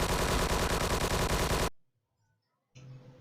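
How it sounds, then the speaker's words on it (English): Rapid automatic fire from a pair of SMGs in a video game, a loud dense burst for over a second that cuts off abruptly, followed by near silence and then a softer rumble. "this gun I'm having right now is two SMGs"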